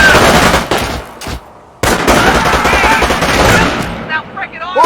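Dense battlefield gunfire in Company of Heroes, loud rapid machine-gun bursts and rifle shots overlapping, with a brief lull before firing resumes and shouted voices in the mix.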